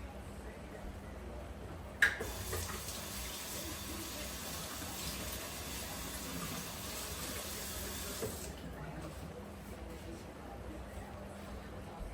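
Tap water pouring steadily into a sink after a sharp clunk, a continuous hissing splash that runs for several seconds at close range and then cuts off, leaving a quiet room tone.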